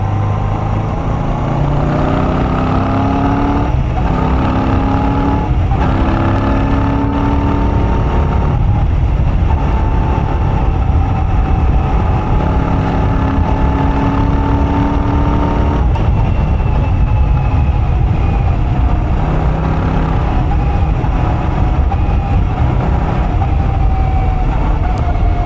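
A Royal Enfield Shotgun 650 motorcycle with its exhaust baffles removed rumbles loudly and steadily, a deep continuous engine drone with shifting tones as revs rise and fall, heard close and alone without talk.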